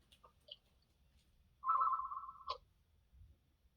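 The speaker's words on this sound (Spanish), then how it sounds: "Sonando el teléfono" A single telephone rings once in a quiet classroom, a steady electronic tone of about a second that cuts off abruptly, with faint ticks and low room noise around it.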